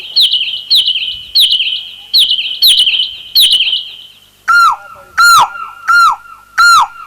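A human voice imitates birds chirping during a folk story narration, loud repeated sharp chirps in two patterns, first quick trilled bursts then slower rising whistled tweets, evenly spaced and alone.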